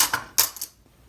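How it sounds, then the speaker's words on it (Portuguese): Sewing clips unclipped one after another from fabric along a zipper channel while making an Easter egg bag: a few sharp, bright plastic clicks and snaps close by, then quiet. "agora eu só vou tirar os clips"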